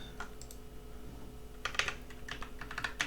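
Quiet keystrokes on a computer keyboard entering shortcuts, a few scattered taps early and then a quicker cluster of close, clicky presses over a low steady hum.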